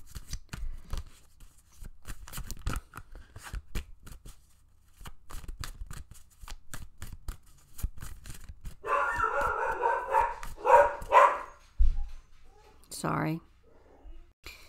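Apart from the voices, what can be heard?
dog barking excitedly as son comes home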